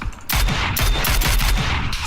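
Rapid bursts of automatic gunfire from the battle-royale shooter PUBG, several loud close volleys in quick succession with sharp repeated cracks.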